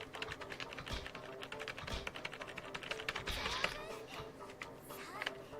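Computer keyboard keys clatter rapidly during gameplay, dense irregular clicks and taps close to the microphone, quiet overall, with occasional brief voice sounds mixed in.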